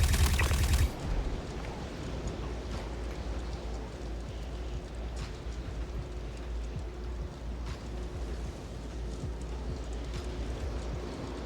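Rapid bursts of gunfire from a weapon in the video game Star Citizen crackle in quick, repeated volleys, moderately loud over a steady background hum, with no talk.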